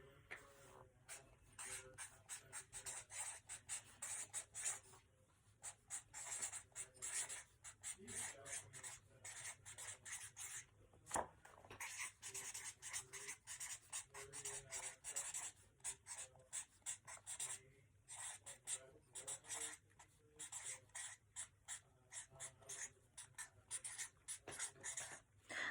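Steady scratchy rasping of writing for a 2nd grade lesson on dynamics runs in rapid bursts of strokes with short pauses, close and quiet, with no talk.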